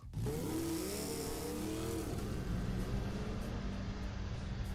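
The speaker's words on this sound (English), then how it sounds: "We both put our helmets on, then revved the engine and we were off." A motorcycle parked in a parking lot revs and pulls away, its engine loud and close with a rising pitch at the start, then a steady, sustained roar with no talking.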